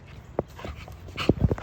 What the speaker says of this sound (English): Bishop's a very, very nice dog, man